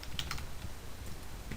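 Computer keyboard keys are typed in a steady, fairly fast run of close clicks while code is entered, with no voice.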